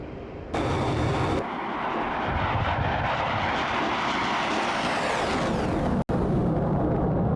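An aircraft engine runs loud and steady as a broad, dense roar with a shifting whine, close up and continuous, interrupted once by a brief drop-out near the end.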